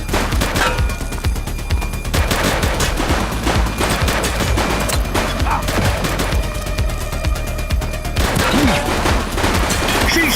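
Intense video game gunfire from The Precinct, a police shootout with dense overlapping automatic bursts and single shots filling the whole stretch, loud and close, with voices partly buried under the shooting.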